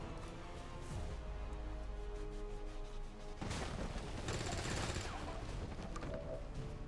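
Rapid gunfire bursts in XCOM 2, a dense crackling volley that swells midway and holds loud over a low rumble, with voices talking in between.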